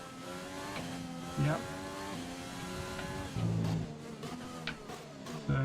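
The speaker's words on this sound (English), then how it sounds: "just a very reactive engine note as I'm pressing the accelerator" F1 car engine in a racing video game revs sharply with a reactive note under acceleration, rising harmonic sweeps and brief louder bursts throughout, while a voice briefly speaks over it.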